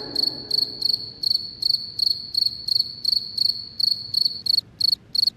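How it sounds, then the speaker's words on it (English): Crickets chirping at night in rapid, evenly spaced pulsed bursts, loud and close, repeating steadily with no other sounds. "a million crickets rubbed their wings together"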